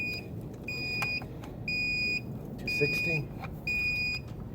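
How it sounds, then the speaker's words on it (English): Flame Boss pit temperature controller on a Kamado Joe Big Joe grill sounds a high-pitched electronic alarm in five evenly spaced half-second beeps, moderately loud, while a person talks quietly underneath. "The pit temp alarm, it's a little too warm"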